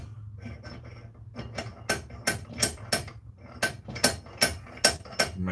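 Bolts tightened by hand with a ratchet during assembly of an Iron Creek grinder, rapid metallic clicking strokes growing louder and more regular, close by.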